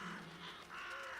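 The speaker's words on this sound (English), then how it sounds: "Crows." Crows caw a few times in a church setting in The Vanishing of Ethan Carter, harsh calls sounding faint and somewhat distant over a soft ambient background.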